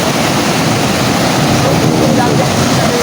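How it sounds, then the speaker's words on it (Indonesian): Ocean waves break on a rocky shore, producing a loud, continuous roaring wash of surf that fills the scene with steady broadband noise. "Ini yang dari ombak ini. Ombak ini nampaknya memang menerima kedatangan kita Bang Matomblo."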